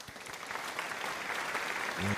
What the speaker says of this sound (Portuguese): Por favor, recebam com palmas Rodrigo Serradora.